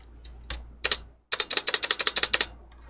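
Keys clack on a Cherry G84 keyboard with Cherry ML switches, starting with a few isolated presses and then a quick, even run of about a dozen crisp strokes up close.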